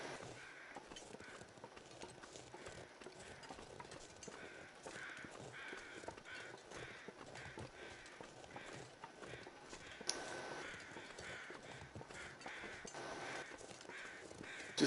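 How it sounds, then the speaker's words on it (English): Crows caw repeatedly in The Long Dark's snowy wilderness, harsh calls rising over a quiet ambient backdrop along with soft crunching footsteps, with no talking. "I don't think these crows are telling me where a dead wolf is"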